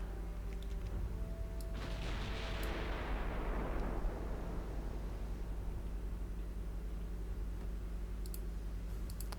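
A naval gun salvo booms in a 1910 German battleship battle in Ultimate Admiral Dreadnoughts, a single heavy blast that rolls off into a fading rumble, with faint clicks around it.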